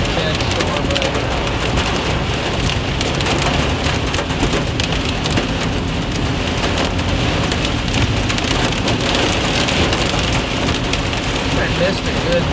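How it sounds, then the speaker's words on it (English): Heavy rain pours down in an intense thunderstorm in Osceola, Iowa, a dense, steady hiss of drops drumming on surfaces, loud and continuous with no pause. "intense storm right now"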